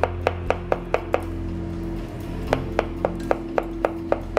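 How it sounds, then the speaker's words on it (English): A knife chops mushrooms on a cutting board in quick, evenly spaced taps, a run of about five, a brief pause, then another steady run, close over a low hum. "while we're waiting for the butter to melt, we can chop up the mushrooms"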